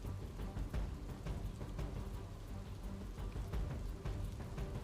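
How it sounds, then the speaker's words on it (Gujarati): Heavy rain pours down steadily on a village in Bhavnagar district, Gujarat, a dense, continuous hiss of drops pattering on surfaces with no pauses throughout. "ભાદરા ગામમાં પણ ધોધમાર વરસાદ।"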